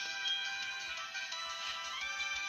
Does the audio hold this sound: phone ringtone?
yes